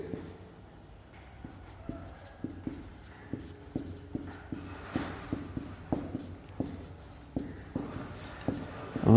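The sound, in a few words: writing by hand on a board or paper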